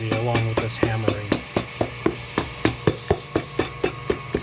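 A hammer strikes a boot sole in a shoe repair workshop, about twenty sharp, evenly spaced taps in a quick steady rhythm, with a machine humming at the start.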